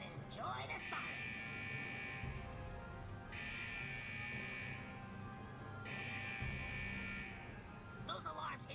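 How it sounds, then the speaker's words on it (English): Alarms blare at a malfunctioning fusion press unit in World of Warcraft, a loud buzzing tone starting and stopping in long bursts over a rumbling machine hum, with a voice speaking throughout. "Those alarms indicate that we're encountering some minor technical difficulties with the fusion press unit"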